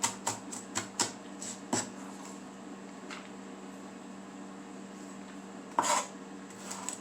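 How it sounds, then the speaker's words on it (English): A knife chops food on a cutting board for a brachiole dish, with a quick run of sharp taps at the start, a few scattered knocks later and a louder clatter near the end over a steady low hum. "I'm gonna chop it up a little more."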